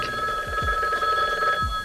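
A telephone rings in a 1990s US West caller ID commercial, a steady electronic bell tone sounding continuously and clearly for the whole short stretch with no voices over it.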